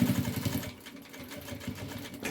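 A sewing machine running slowly to sew a topstitch: a close, uneven mechanical whirr with short pulsing bursts that dip and resume over a couple of seconds.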